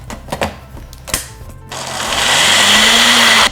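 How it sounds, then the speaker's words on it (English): A few sharp clicks and knocks, then a blender roars into a steady, loud whir, blending a carrot cake protein smoothie until smooth. "we can go ahead and blend this until smooth"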